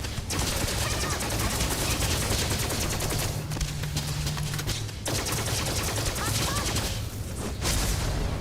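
Rapid, sustained plasma rifle gunfire in Starfield, dense and loud across most of the stretch, with brief pauses before bursts resume.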